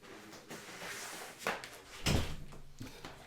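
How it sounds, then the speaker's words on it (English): A room door closes indoors with a dull thump, preceded by a lighter knock or latch sound, moderately faint over low background room noise. "I'll close my door"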